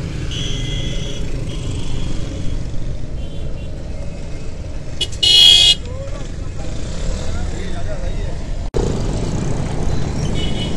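Busy Karachi road traffic with engines rumbling steadily and a loud horn blast in the middle, with occasional speech mixed in.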